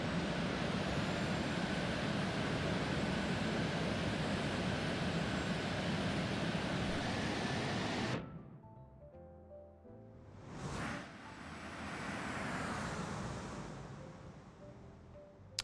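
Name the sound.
Lion Air 737-900 landing on wet runway, X-Plane 11 video game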